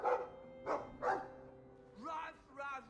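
A dog in the video game Dragon Age II barks in several short, close bursts, followed by a couple of higher whining yips.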